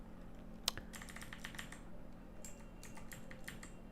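Fingers type on a computer keyboard while coding a React TypeScript frontend, sparse quiet clicks and short flurries of keystrokes with one sharper tap near the start.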